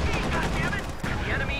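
Dense video game battle gunfire with half-tracks advancing, continuous overlapping shots and machine-gun bursts filling the mix at close, loud level, with faint commentary talk underneath.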